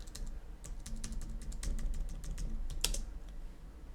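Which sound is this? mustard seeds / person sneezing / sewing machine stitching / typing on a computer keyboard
typing on a computer keyboard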